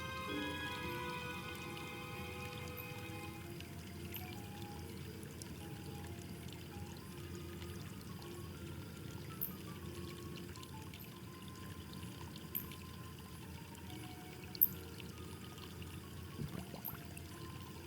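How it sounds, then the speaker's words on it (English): Water from a fountain filling a bottle in the Foolish Mortals game, a faint, soft pouring trickle with a few small ticks and drips over quiet background. "I filled the bottle with water from the fountain."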